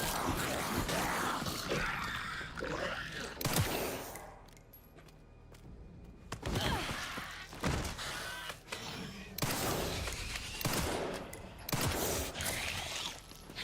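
Video game gunfire crackles in dense bursts, loud volleys broken by a short quieter lull, then more rapid shots and thuds.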